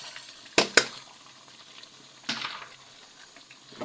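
Potatoes and peas being added to a hot pan for aloo matar, with two sharp sizzling bursts close together, then another sizzle a moment later over a quiet background crackle.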